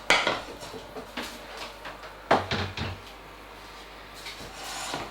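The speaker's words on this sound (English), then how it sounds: "Let's get this hot plate out of the way" A hot plate is shifted aside in a home kitchen while making flapjacks, giving a few close knocks and scraping clatters with quiet gaps between them.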